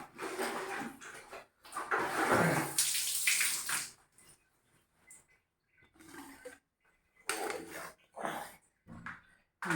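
Clothes being hand-washed in water, with splashing and sloshing bursts, close and fairly loud, separated by quieter pauses.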